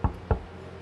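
Two firm knocks on a door, close and dry, spaced about a quarter second apart, with quiet after.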